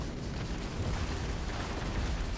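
A spaceship in the Starfield video game, snagged on a space station, bangs against it and takes damage: a dense, loud, continuous rumble of booms and crashing impacts with no clear gaps.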